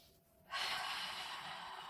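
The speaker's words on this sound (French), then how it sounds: "C'est parti, on inspire." A deep inhalation during a Pilates abdominal breathing cycle, close and fairly loud, starting after a brief quiet moment and drawn out steadily as a breathy rush to the end.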